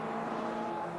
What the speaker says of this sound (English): these cars making their way down to Village Corner at the moment